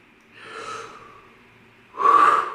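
A person draws a deep breath in and lets it out, two close, breathy sounds, the second louder and sharper than the first, with no talking.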